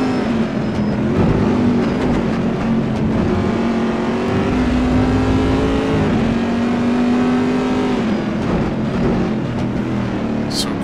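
Racing cars from the Gran Turismo racing game at Imola roar past in a steady, loud engine drone, with pitch sweeping up and down as cars accelerate through the closing laps.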